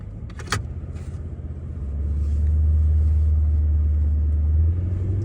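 A 4x4 travelling solo northbound on the Canning Stock Route in outback Australia, a low engine rumble swelling and holding steady close by after a brief knock at the start.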